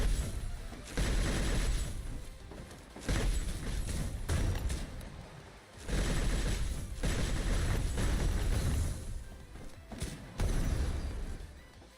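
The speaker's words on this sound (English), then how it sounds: "I didn't know there was a Gatling gun." Rapid sustained gunfire from a Gatling gun in the shooter game Snowbreak: Containment Zone, loud and dense in long bursts with a few short pauses, no talking over it.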